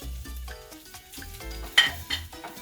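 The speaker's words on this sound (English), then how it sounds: "you can grab a wooden spoon and just toss it around so that the flavors mix together" A wooden spoon tosses and stirs cooked white rice in a pot, giving soft scraping, shuffling strokes in a quiet kitchen with a faint sizzle.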